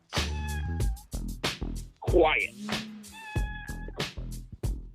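A pet cat meows several times amid frequent nearby talk, its drawn-out cries clear and fairly close, rising over the speech in the middle of the stretch.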